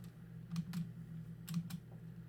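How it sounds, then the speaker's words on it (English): Keyboard typing sound effect from the video game Doki Doki Blue Skies: two short bursts of key clicks, each a pair of quick taps, close and moderately loud over a steady low hum, with no talking. "Wait, she's typing."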